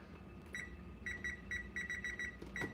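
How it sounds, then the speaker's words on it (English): Kitchen timer beeping while being set during home cooking of a meatball casserole, a string of short, moderately loud electronic beeps in quick irregular presses. "let's set the timer"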